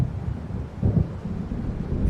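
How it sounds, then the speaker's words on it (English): Low rolling thunder of an approaching storm in the game Alan Wake, a continuous distant rumble that swells briefly near the middle, with no talking. "It seems there's a storm coming."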